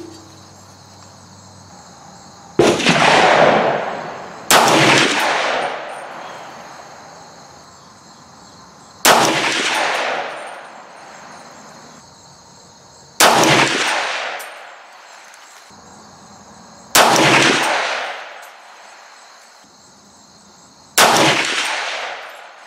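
Six sharp supersonic shots from a 300 Blackout rifle firing 168gr A-Max handloads, each a loud close crack with a ringing tail, spaced irregularly a few seconds apart over a steady high insect-like hum.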